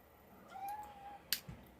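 A single faint, drawn-out cat meow rises and holds briefly in a quiet indoor space, followed by a soft click and a small thump.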